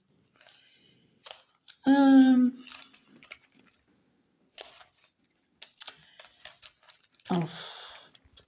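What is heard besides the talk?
envelopes being opened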